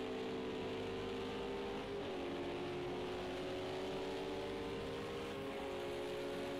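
A GT3 or LMP race car in Project Cars 2 at Road America drives past in a multiclass race, its engine droning steadily at high revs while the pitch slides gradually downward, with no talk.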